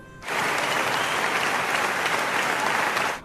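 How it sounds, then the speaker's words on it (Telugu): A standing audience bursts into sustained applause, a dense, even wash of clapping that starts abruptly, holds steady for a few seconds and then stops. "అందరూ ఒక్కసారి లేచి నిలబడి చప్పట్లతో హర్షధ్వానాలు చేశారు"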